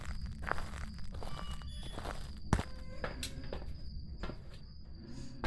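Ghost footsteps in a video game, a soft irregular tread over a steady background hum and insect-like chirping, with one sharper thud partway through.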